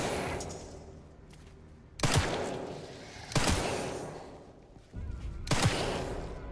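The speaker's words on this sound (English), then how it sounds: "Here goes all my ammo." Rapid bursts of gunfire in a Resident Evil game as a player empties all their ammo, loud repeated volleys in three or four clusters with echoing tails, no talking.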